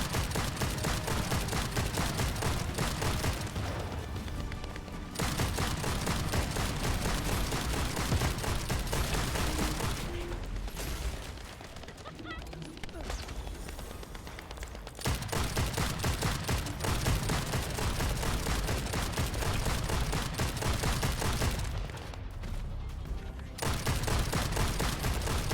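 Dense, continuous video-game gunfire roars in long sustained volleys, dropping to quieter gaps around the middle and near the end as the weapon runs dry.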